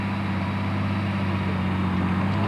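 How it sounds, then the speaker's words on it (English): A 1993 car's engine running steadily with a low hum while its wheels spin in spring conditions, a continuous loud drone with no breaks. "The wheels are still spinning."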